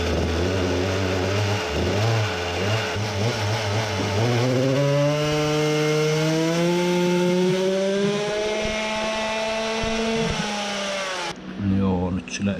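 A modified Samurai 40cc two-stroke engine fitted with a 98 jet runs a little rough. Its loud, continuous buzzing drone revs upward with a climbing pitch, holds high, then cuts off sharply near the end.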